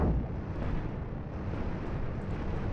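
A spaceship explosion in the space game Cosmoteer, a dense, continuous low rumble and roar that stays loud and steady throughout, with no voices.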